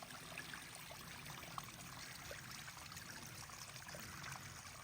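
Cold water trickling from a water source on the Appalachian Trail, a faint, steady outdoor stream with soft babbling and no voices.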